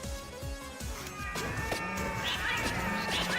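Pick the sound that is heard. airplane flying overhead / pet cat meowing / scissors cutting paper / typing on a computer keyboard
pet cat meowing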